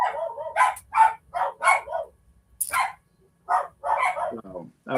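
Several dogs bark in repeated bursts of sharp yips and barks, fairly close and loud, with short pauses between volleys and a whimpering note near the end.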